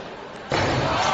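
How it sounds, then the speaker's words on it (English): A light tube smashes against a wrestler's head at a GCW wrestling show. A sudden loud crash gives way to a sustained wash of noise from the crowd. "Punching that tube right into his head"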